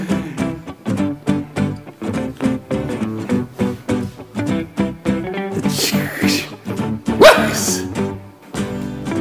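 A dog barks repeatedly over steady music, quick yapping barks in a busy rhythm throughout.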